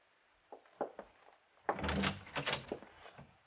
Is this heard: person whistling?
no